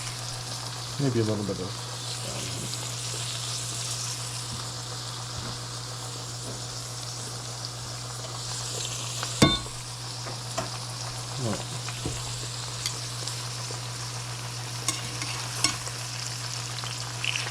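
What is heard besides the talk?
ginger and garlic sizzling in oil in a pan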